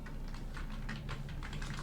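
Steady typing on a computer keyboard while entering text in MS Word, a quick run of crisp, closely spaced key clicks, near and fairly quiet, with no talking.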